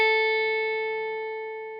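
A single sustained A note on the first string of a guitar at the fifth fret, clean and bright, ringing alone and slowly fading over nearly two seconds.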